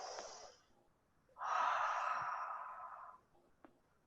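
A deep breath, a short exhale and then a long, steady inhalation drawn close to the microphone, quiet and alone with no talking.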